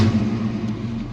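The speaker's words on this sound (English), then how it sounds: "Clutch in, begin starting the engine." A 1990 Ford Mustang Foxbody GT with a 5.0 V8 and custom exhaust rumbles loudly and steadily as the engine catches and runs, a deep, close, continuous growl with no talk over it.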